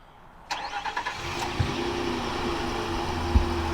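A 2023 Nissan Frontier PRO 4X V6 starts by remote start: a sudden starter crank, then the engine catching and settling into a steady, fairly loud idle, with a couple of small clunks.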